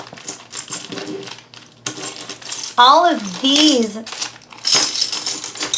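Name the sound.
glass pieces handled and clinking together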